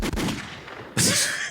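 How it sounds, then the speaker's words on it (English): A single low, booming gunshot sound effect fires at about the one-second mark after a stretch of muffled rumbling, loud and close with a sharp crack and a broad blast. "Give me a low gunshot."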